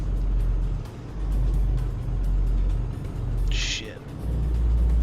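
A heavy truck engine in Euro Truck Simulator 2 drones low and steady while gears change, the revs dipping and recovering a few times as it labours up a hill.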